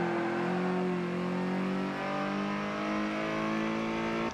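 A Ford Fiesta tuned to Ford Mach-E base power, racing in Forza Motorsport 7, holds a steady loud engine drone with a slight pitch dip partway through, continuous and alone.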